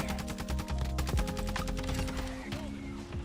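Rapid bursts of automatic gunfire in Modern Warfare 2, shooting through a wall, crackling in fast rhythmic volleys with heavy low thumps, loud and close, with game sounds layered underneath.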